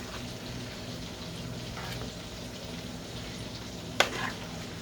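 Brussels sprouts coated in oil and seasoning fry in a pan with a steady, soft sizzle, and a sharp clatter near the end as they are stirred and flipped.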